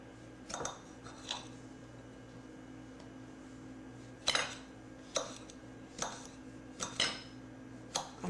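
Hot peppers are cut into pieces with a knife, sparse clicks and taps of the blade on a board or dish sounding at irregular intervals over a quiet kitchen hum.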